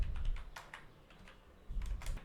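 Computer keyboard typing in bursts of quick, close keystrokes, with a brief pause in the middle before the clatter resumes, no voices.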